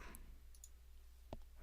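Quiet mouse clicks on a computer interface, a faint click early on and a sharper single click near the end, over low steady room hum with no talking.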